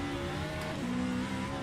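A race car in rFactor 2 bouncing over curbs, its engine droning steadily with tonal harmonics and a brief rumbling jolt, close and continuous.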